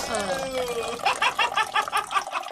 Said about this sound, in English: Water dripping